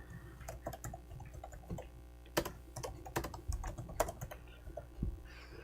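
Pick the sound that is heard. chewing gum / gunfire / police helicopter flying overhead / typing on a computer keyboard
typing on a computer keyboard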